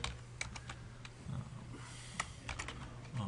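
Quick bursts of keystrokes on a computer keyboard, soft and close, in short irregular clusters over faint room hum.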